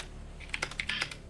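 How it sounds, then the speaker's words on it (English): Computer keyboard keys tapped in a quick irregular burst of light clicks, close and fairly quiet, during a live esports match broadcast with no voices. "just typing to him right now."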